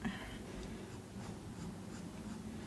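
A stylus sketches on a BOOX Note Air4 C e-ink tablet, giving a steady, soft, close scratching of the nib gliding across the screen, quiet and continuous, with no voices.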